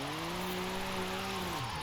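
A 2021 BMW M4 Competition on race suspension drifts in Forza Horizon 5, its engine holding a loud sustained tone that dips in pitch toward the end, alongside faint tire squeal.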